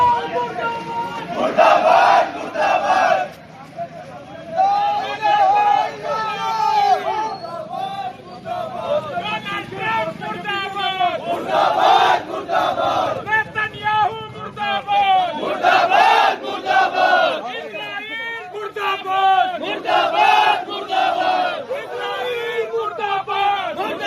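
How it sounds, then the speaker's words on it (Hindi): A large street crowd of protesters in an Indian city chants slogans against America and Israel, loud and continuous rhythmic shouting with massed voices swelling in repeated bursts throughout. "आप सुन रहे थे किस तरीके से अमेरिका और इजराइल के मुर्दाबाद के नारे लगाए जा"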